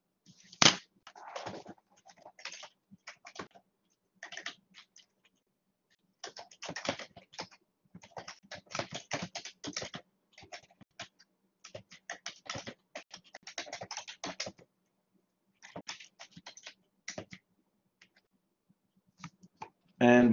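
Rapid computer keyboard typing in bursts of clicky keystrokes with short pauses, close and fairly loud, no voices.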